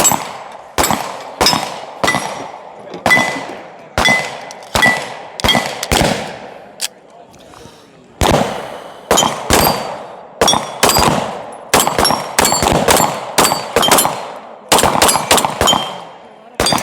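Rapid strings of loud pistol shots from Atlas Gunworks competition pistols, one fitted with a compensated barrel and one with a ported barrel, fired in quick bursts with short pauses between strings, close and sharp at an outdoor range.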